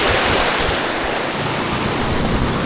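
Strong river current rushing over rocks at a river crossing in Tanay, Rizal, a steady, loud, broadband wash of flowing water with no talk.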